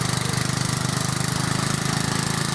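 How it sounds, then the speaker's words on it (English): A small 11 horsepower tractor engine with a Briggs and Stratton motor runs steadily close up, its loud, even chugging pulse continuing unbroken with no voices. "It's got some guts as that little tractor, even though it is only an 11 horsepower."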